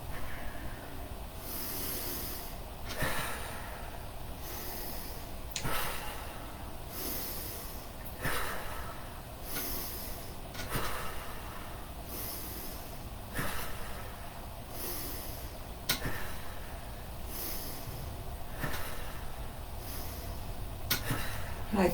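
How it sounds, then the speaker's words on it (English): Slow, repeated audible exhales during seated shoulder shrugs in chair yoga, each a soft breathy whoosh recurring about every two to three seconds, close and steady over a low background hiss. "Maybe do an audible exhale if you like."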